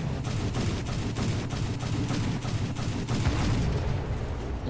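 A British naval cruiser, HMS Enterprise, firing its guns in War Thunder: a rapid, steady string of heavy booming shots roaring without pause over a constant low rumble.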